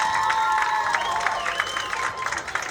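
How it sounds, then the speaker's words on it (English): Crowd cheering and clapping at a Chilliwack Giants Friday-night high school football game as a player is introduced, a steady, fairly loud wash of applause and shouts from the stands throughout. "You gotta like the kids that get their own cheering section."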